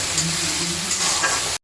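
Chopped ginger, garlic and onion fry in a pan with a steady, close, loud sizzle and light stirring, cutting off abruptly at the end.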